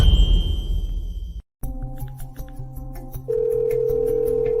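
A telephone call being dialed: a steady electronic tone gives way, after a brief silence, to a series of short beeps and then a long sustained tone, close and clear with no talking.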